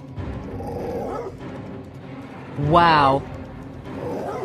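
A large dog attacking a whimpering pup in an animation, heard as a sharp, rising yelp or whine in the middle, with someone talking before and after it.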